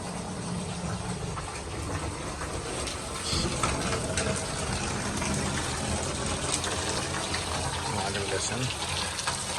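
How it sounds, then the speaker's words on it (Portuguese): Water pours steadily onto the veranda of a house, a continuous loud rushing splash filling the whole stretch, with voices talking over it. "Água caindo lá."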